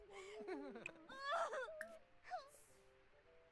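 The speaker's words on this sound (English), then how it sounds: "now this kid's crying" A child crying in a life-simulation video game, whimpering and wailing in uneven bursts that fade out, ending with a short sharp sound.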